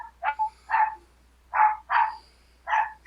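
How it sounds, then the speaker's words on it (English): A dog barks six times in short, sharp bursts, some grouped in pairs. The barks sound slightly muffled and a little distant in an otherwise quiet room, with no talking. "Can you guys hear my dog barking right now?"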